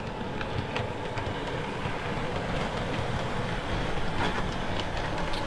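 An Accurascale Class 50 OO gauge model locomotive runs over points, giving a steady close rumble of motor and wheels with faint clicking, no talking.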